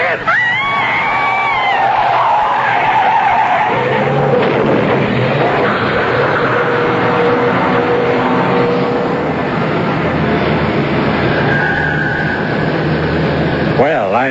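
A radio drama car with failed brakes skids and screeches through a red light, with a long, loud tire squeal over a roaring engine and traffic noise while voices shout and scream.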